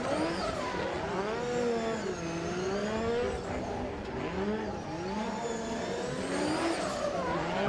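A Nissan S14 drift car revs hard in the burnout box at an airport drift event, a loud, continuous engine howl with rising and falling pitch sweeps and some tire noise.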